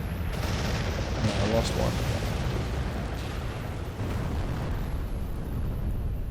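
Rumbling blasts of a city being bombed in the mobile strategy game ICBM, a continuous dense roar of explosions filling the scene, with a voice briefly speaking over it.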